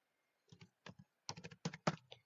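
A Jan Aadhaar number is being typed on a computer keyboard as sparse, quiet key clicks that come in small clusters and then a quicker burst near the end, with no other sound.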